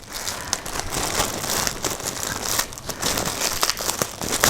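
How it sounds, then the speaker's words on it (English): A plastic bag of dream catcher supplies being worked open by hand, giving a close, loud, continuous crinkling and rustling with sharper crackles and a few small tearing bursts throughout. "I'm trying not to rip the whole bag open because I need to use this again"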